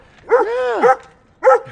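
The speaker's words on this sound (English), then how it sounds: "that barking dog" A dog barks twice up close and loudly, the first a long, drawn-out howling bark followed by a short pause and a second sharp bark, with no talking over it.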